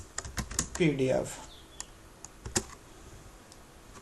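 Typing on a laptop keyboard: a quick burst of key clicks followed by sparser, isolated taps, close and crisp, with someone speaking briefly over the first keystrokes.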